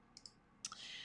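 A computer mouse clicks a few times on course software, two quick soft clicks followed by a sharper pair, faint and close, with no talking.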